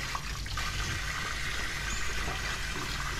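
Water pours and splashes while a tilapia (ikan tilan) is scalded before scaling, a steady rushing gush that runs continuously at close range with no speech.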